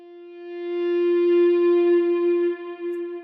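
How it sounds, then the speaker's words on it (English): An electric guitar note swells slowly in through a volume pedal with reverb and delay, a sustained singing wail on the G string that rises, holds and wavers as it fades, played alone. "I kind of switch to like a wailing type of noise with a little reverb and delay, and I swell in and out with my volume pedal"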